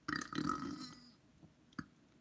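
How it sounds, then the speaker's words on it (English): A single loud, close belch rumbling for about a second, followed by quiet and a short faint second burst. "That was that burp from earlier."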